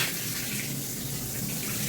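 Water poured steadily behind a toilet during cleaning, a continuous close splashing rush that stays even throughout with no pauses.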